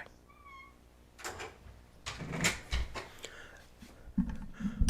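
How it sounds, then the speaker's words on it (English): A house cat gives a couple of short meows early on, followed by a door being handled and bumping open and closed, with light household noises and a brief voice nearby. "now my cat wants to leave"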